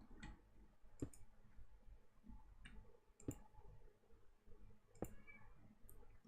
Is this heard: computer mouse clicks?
yes